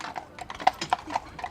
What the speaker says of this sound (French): des balades en calèche sont organisées. Aux commandes Henri et ses 2 chevaux, Neptune et Nevada